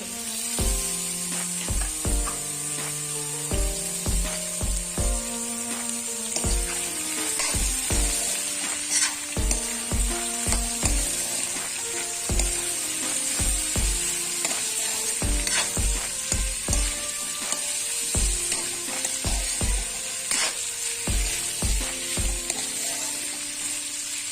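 Bottle gourd skin fries with potatoes and chickpeas in a pan, Assamese style, with a constant sizzle. Rhythmic spatula scrapes and knocks repeat throughout over melodic background music.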